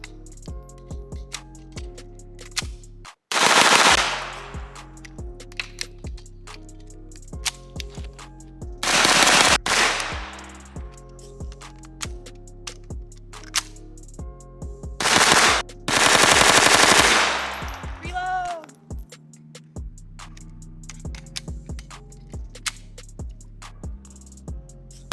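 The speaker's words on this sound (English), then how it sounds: "This is a very fun gun to shoot in semi-auto" Two Scorpion pistols fired akimbo in semi-auto, loud sharp shots in several rapid bursts with quieter gaps and lingering echoes between them.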